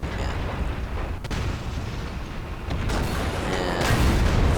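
Tank cannon fire in World of Tanks with Russian tanks, heard as loud, dense battle noise with a sharp crack partway through and a heavy rumbling roar that swells toward the end, no voices over it.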